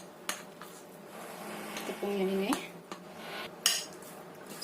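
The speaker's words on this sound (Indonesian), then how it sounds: "Kita aduk sampai rata" A spoon stirs and scrapes through potato dough mixed with all-purpose flour in a bowl, giving soft scraping and occasional clinks against the dish, with a brief spoken remark over it.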